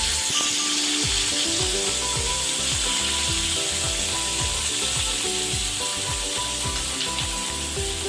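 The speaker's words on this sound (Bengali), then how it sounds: "কড়াইয়ে পরিমাণ মতো সর্ষের তেল গরম করতে দিতে হবে তারপর একে একে চিংড়ি মাছগুলো দিয়ে দিতে হবে" Prawns fry in hot mustard oil in a pan, loud continuous sizzling with repeated scraping strokes from stirring at a steady rhythm, no voices.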